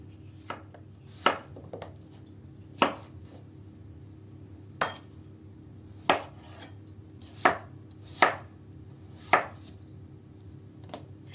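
Potatoes, carrots and onions being chopped for soup on a board, about nine sharp knife strikes spaced irregularly, close and clear against a quiet room.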